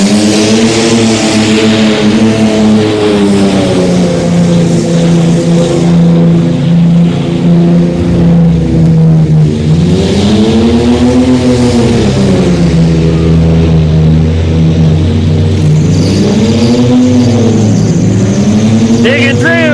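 A mud bog truck called Taz, driven by Ronald Grubbs, charges through deep mud and over jumps. Its loud engine revs up and down in repeated swells, and an announcer talks over it throughout.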